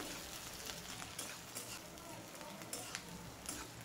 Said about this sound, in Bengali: পেঁয়াজ আর রসুন ভেজে নেব।